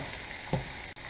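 Vegetables for meatless stuffed peppers being stirred and cooked in a pan, giving a steady soft sizzle with a brief scraping knock as they are mixed.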